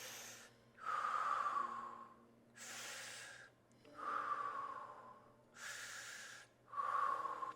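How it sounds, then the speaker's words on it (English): Heavy, audible breathing during a fascial stretching maneuver, with strong inhales and exhales alternating in a slow, even cycle, close to the mic and unaccompanied by speech. "6 breaths, here we go."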